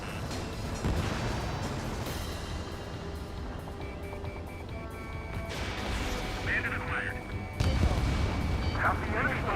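A missile launch in the combat flight game Ace Combat 7, heard as a loud, sudden rushing blast late in the clip over a constant roar of jet engine and battle noise, with radio-style voices talking.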